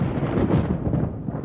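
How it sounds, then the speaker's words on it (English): Deep rolling rumble of thunder from a storm brewing in the woods, a low continuous roar that stays loud throughout and slowly fades slightly toward the end. "Back in the woods, the temperature has dropped and a storm is brewing."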